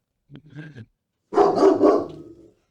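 A dog barks close by, a short soft yip followed by a louder, longer bark, in an indoor setting with no talking.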